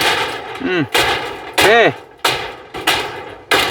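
Hammer blows driving nails into corrugated zinc roofing sheet, a handful of loud, sharp metallic strikes spaced about a second apart with ringing tails, close by, with a brief shout and voices between hits.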